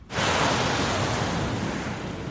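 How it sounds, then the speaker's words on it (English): Ocean waves, a loud, close, continuous rush of breaking surf that swells in and holds steady for a couple of seconds. "The one thing that makes ocean beaches stand apart from everything else is the waves."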